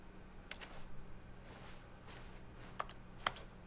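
Sharp, sparse clicks from a computer mouse or keys during play of The Stanley Parable, a few isolated taps spaced over a quiet hum, close and fairly faint.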